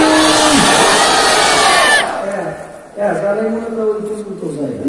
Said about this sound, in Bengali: দেন একটা তাকবীর। নারা তাকবীর।